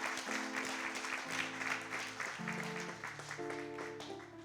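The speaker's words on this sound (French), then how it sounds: "Nous l'acclamons très fort. We clap for him." Church congregation clapping during a worship service, steady continuous applause over sustained organ or keyboard chords, moderately loud and fairly close.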